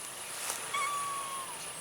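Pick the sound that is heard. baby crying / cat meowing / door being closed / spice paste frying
cat meowing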